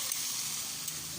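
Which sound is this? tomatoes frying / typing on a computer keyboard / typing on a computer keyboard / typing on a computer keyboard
tomatoes frying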